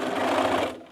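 A sewing machine runs steadily, stitching patchwork pieces together at close range, a continuous motor whir that tapers off near the end with no talking.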